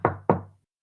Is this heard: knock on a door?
yes